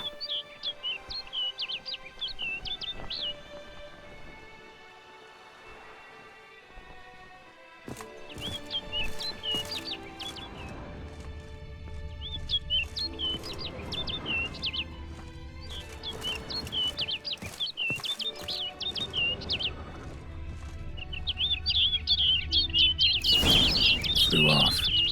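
A bird chirps in The Witcher 3, repeated bright tweets in short clusters over a soft ambient game backdrop, with some movement and rustling sounds between the calls.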